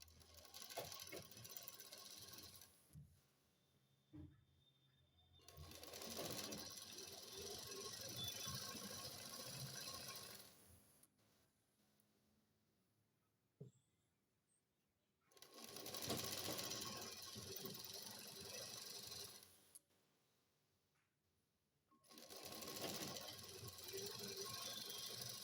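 A sewing machine stitches the half-inch hem of a ladies' trouser leg in bursts of steady whirring, three or four runs of several seconds each, separated by quiet pauses with small clicks and fabric handling.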